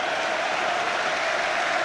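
Leeds United supporters in a packed stadium at an FA Cup third round replay against Arsenal applaud and cheer, a dense, steady roar of clapping that holds at full strength throughout with no clear voices standing out.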